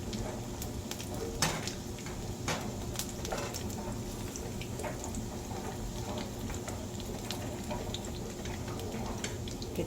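Apple fritters fry in hot oil with a steady close sizzle and bubbling, broken by occasional sharp clicks and taps as they are flipped and smashed down.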